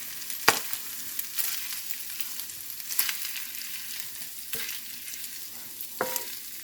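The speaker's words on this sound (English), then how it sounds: "let me tend to my sausage and I'll be back" Sausage fries in a pan with a steady crackling sizzle, punctuated every second or two by sharp clacks and scrapes of a utensil stirring the links, no voices.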